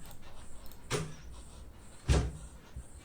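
Two doors slam in quick succession, each a sharp, loud thud with a brief rattle, separated by about a second of quiet room hiss with no talking.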